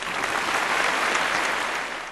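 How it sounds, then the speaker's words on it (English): Conference audience applauding at an outsourcing summit, a dense, even burst of clapping from a large room that holds steady and tapers slightly at the end, with no talk over it. "big round of applause for all of us who've been here for a long time"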